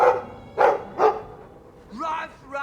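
A dog in the Dragon Age II video game barks three times in short, evenly spaced bursts, loud and close. A voice follows at the end.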